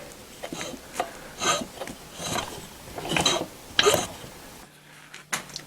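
Lawnmower engine, sitting upside down, cranked slowly anti-clockwise by hand: a series of close, dry rasping and clicking mechanical turns in uneven bursts, followed by a brief quiet spell and one last click.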